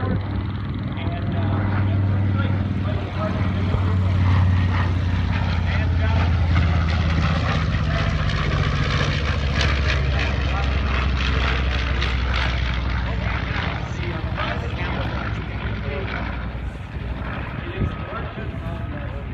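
A WWII Navy patrol bomber with a single tail drones past at an airshow, its piston propeller engines a loud continuous roar that swells and holds, with someone narrating over it.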